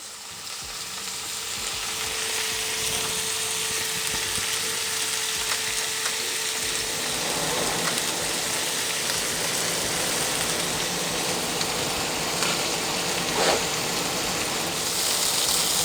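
Red prawns fry in a pan for Greek saganaki, a steady close sizzle with crackling spatter that grows slightly busier partway through, with no talking.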